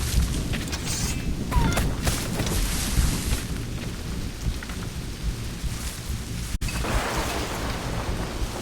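In Assassin's Creed Rogue a thunderstorm rages, with dense, loud rain hissing steadily throughout and deep thunder rumbling beneath it, rising into a sharp crack near the end.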